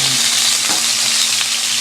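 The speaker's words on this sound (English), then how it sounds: "I got 2 pieces of tilapia here, and I'm going to just put them in here" Tilapia fillets fry in olive oil in a warm pan, giving a continuous close sizzle with a couple of soft crackling pops.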